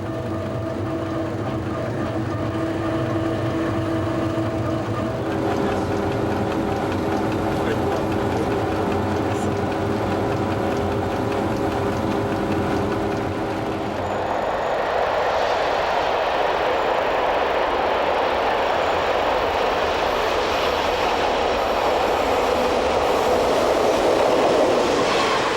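The ME 140 train overtaking on a parallel track, heard from aboard a moving train on the Dijon–Lyon line: a steady rumbling roar with rail clatter that swells and brightens halfway through, with no voices.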